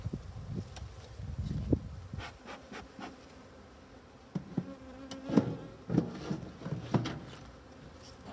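A hybrid honey bee colony drones in a steady buzz, while bees fly close past in loud, brief whines and scattered knocks and handling noises break in.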